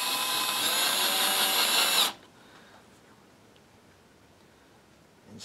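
A power drill drives wax-coated screws into a Telecaster guitar body, a steady, loud whirring buzz for about two seconds that cuts off abruptly, leaving a quiet room with a faint click near the end.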